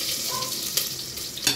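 Milkfish sautéing in a pan with garlic, onion and ginger gives a steady close sizzle and crackle. A few brief stirring scrapes break through, and no one speaks.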